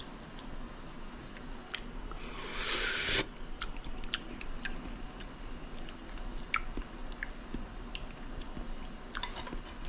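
Spicy rigatoni carbonara chewed close to the mic during a tasting, with soft wet bites and mouth sounds in an irregular rhythm and a brief louder crunchy rustle early on.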